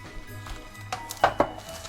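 Ceramic ramekins filled with meringue-topped queen pudding clink down onto a metal baking tray, a few sharp knocks close by, with the two loudest contacts coming near the end.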